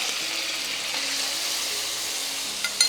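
Shrimp and mixed vegetables stir-fry together in a hot pan with a cornstarch-thickened sauce, giving a loud, steady hiss with a couple of small clatters at the end.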